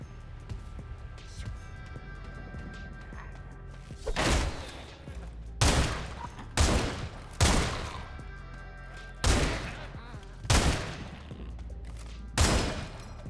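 Gunfire in the shooter game Sulfur: six or seven heavy, booming shots spaced about a second apart after a quieter stretch, loud and close over a low game ambience, with a voice talking at times.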